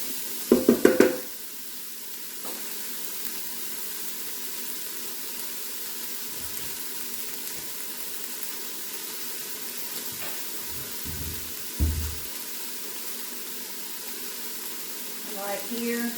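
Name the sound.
vegetables sweating and sizzling in Ninja Foodi pot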